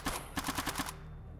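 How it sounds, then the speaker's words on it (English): Gunfire aimed at the player in the game STALKER: a rapid burst of about eight sharp shots within one second, then a quiet tail, with no talking. "Am I being shot at by a human being?"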